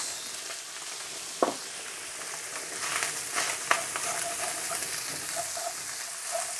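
Bean sprouts for chicken chow mein sizzle steadily in a hot pan, with soft broadband frying hiss and a few sharp clatters of stirring, close and unaccompanied by talk.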